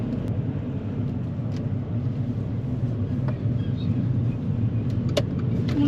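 A large vehicle rolls along in the adjacent lane on a road during a driving test, a steady loud engine and tyre rumble that holds throughout from close by, with no talk over it.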